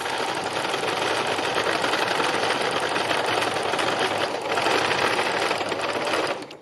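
A sewing machine stitches with a lighter-coloured thread, running in a fast, continuous mechanical whir with a rapid rattling rhythm, close and steady with a brief dip midway.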